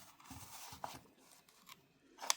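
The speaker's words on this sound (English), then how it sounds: "not sure why this blister is so hard to cut" Scissors snip at a stubborn hard plastic blister pack holding a Hot Wheels '90 Acura NSX toy car, a few sharp close cuts and crinkles with quiet pauses between them.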